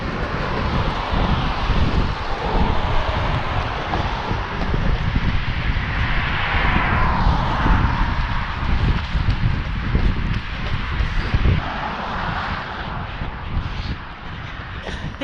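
Strong wind buffets the microphone throughout an outdoor marathon training long run, a constant low rumbling roar with gusty surges and irregular thumps from footsteps or movement.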